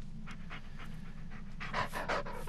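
A dog panting in the Blair Witch video game, quick rhythmic breaths repeating close up and fairly faint, growing a little stronger toward the end, with no talk.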